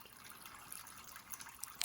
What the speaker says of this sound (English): So it's dripping out.